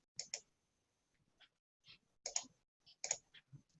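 A computer mouse clicks a button, a series of sharp, faint, quick clicks spaced irregularly with quiet gaps between, close to the microphone.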